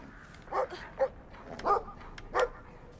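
A dog in the video game Brothers: A Tale of Two Sons barks four times at a moderate distance, short separate woofs spread over a few seconds against a low ambient background.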